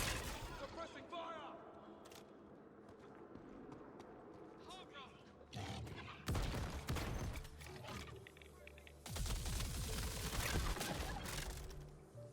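Rapid bursts of suppressing gunfire in a video game come in two loud dense stretches midway and near the end, following a quieter opening, with voices talking over much of it.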